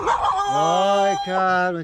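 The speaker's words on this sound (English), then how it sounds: "Suddenly a dog comes and starts barking at me." A dog on a Ligurian hiking trail barks and yelps insistently at close range, a string of loud tonal barks while someone speaks to it over the noise.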